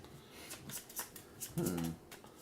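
Cards riffle and slide as they are shuffled back into a deck during a board game at a table, with a few soft flicks and one fuller burst of shuffling, amid quiet voices in the room.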